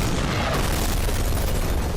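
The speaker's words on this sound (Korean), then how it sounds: "끝내 막지 못한 두 번째 폭발" A bomb goes off in a film scene as a massive, close, booming blast with broad roaring rumble that fills the whole moment without letting up.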